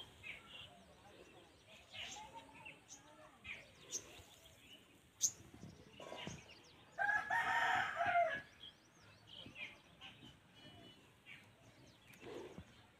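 A rooster crows once loudly, a drawn-out cock-a-doodle-doo midway, with other clucking fowl and scattered chirps around. A person talks intermittently through the scene.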